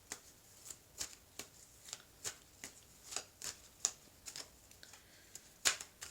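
Golden tarot cards are shuffled by hand in a quiet room, a steady series of crisp riffles and slaps, close and clear, with one louder snap near the end.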